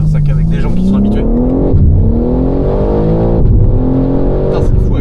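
A 1000-horsepower four-wheel-drive BMW pulls hard with a loud, steady engine drone that rises in pitch across two gear pulls. It is heard from inside the car, and people talk over it.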